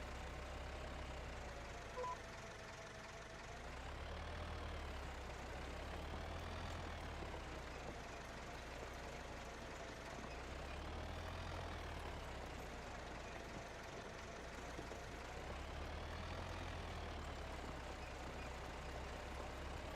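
Tractor engine in a farming video game on an Iowa plains map, a steady low droning rumble that rises and falls in slow waves, loud and continuous with no talking.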